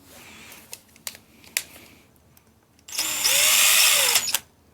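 An impact gun spinning on a Sur Ron electric dirt bike jackshaft, heard as a loud, close burst of about a second and a half. A few light clicks and handling taps come before it.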